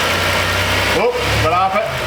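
A car engine idling steadily in drive and then rising in pitch twice as gas is applied, loud and close with a continuous low rumble.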